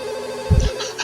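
A telephone rings with a steady electronic tone, a soft low thump landing midway through, in a short, fairly loud moment.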